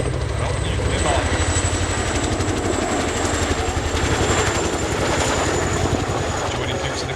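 A Royal Air Force Chinook HC.5 twin-rotor helicopter at a RIAT 2024 flying display gives a loud, continuous rotor thump and engine whine, with a commentator's voice running over it.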